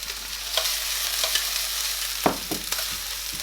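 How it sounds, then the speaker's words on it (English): Onions soften in a frying pan with a steady, bright sizzle, broken by a few sharper scrapes and knocks as they are stirred. "all I'm going to do is to soften the onions"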